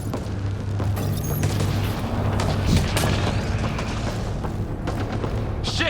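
Video game gunfire from enemy shooters rattles in dense, booming bursts over a rumbling battle backdrop, loud and close throughout with no speech over it.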